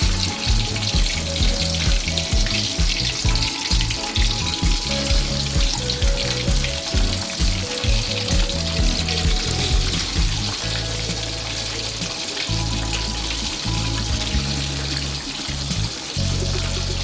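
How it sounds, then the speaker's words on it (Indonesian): Catfish frying in hot oil for a grilled soy-sauce catfish recipe, a loud, dense sizzle and crackle that is close and continuous, with bubbling pops throughout. "Sekarang kita goreng lelenya sampai setengah matang."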